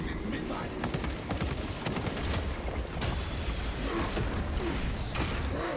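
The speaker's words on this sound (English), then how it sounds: "The Titan launches its missiles." Missiles launch from a Titan in a Titanfall-style shooter, a dense burst of whooshing blasts and rapid gunfire-like impacts that stays loud and busy throughout.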